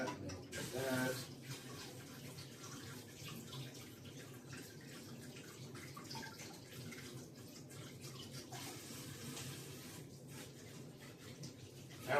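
Hot water running steadily from a tap into a sink, a continuous close splashing rush with a brief louder burst near the start and faint background sounds throughout.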